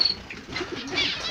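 Caged canaries, sparrows and zebra finches in an aviary give a short burst of soft chirps and cooing calls, close by, with no talking.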